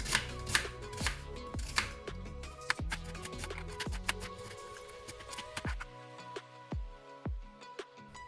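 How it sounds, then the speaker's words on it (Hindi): Onion being finely chopped with a knife on a cutting board, a string of crisp, close knife taps at an uneven rhythm, loud and alone without speech. "प्याज को मैं काट लेती हूँ बारीक बारीक"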